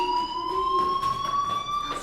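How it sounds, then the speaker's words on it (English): A fire alarm in the Life is Strange video game sounds a steady, piercing electronic tone that holds continuously and loudly throughout with no speech over it. "Hey, do you hear that fire alarm?"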